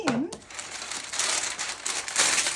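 Baking paper crinkles and crumples steadily as it is pressed into a cake tin for a caramel slice, with close, continuous rustling after a brief higher squeak at the start.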